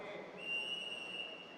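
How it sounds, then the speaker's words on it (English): A referee's whistle at a Robocon robotics match gives a single thin, steady tone held for nearly a second over a busy arena crowd murmur. "The match will start on the referee's whistle"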